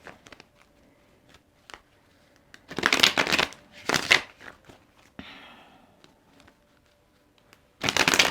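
A tarot deck riffled and shuffled by hand in several separate bursts of crisp card flutter, close and fairly loud, broken by quiet gaps with light taps and handling noises.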